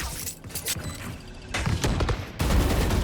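Rapid bursts of gunfire from a Valorant esports match, with a wall-penetrating spray through cover, loud and continuous with layered shots and impacts throughout.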